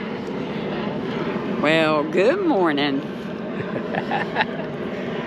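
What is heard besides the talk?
jet plane landing in Nashville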